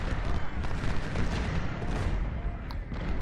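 Cannon and musket fire from Civil War battle gameplay at Fredericksburg rumbles as a dense, continuous barrage of booms and crackling shots throughout, loud and steady.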